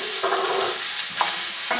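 Large slices of onion fry in a pan with kielbasa sausage, a dense continuous sizzle close up with a few brief stirring scrapes and no voices.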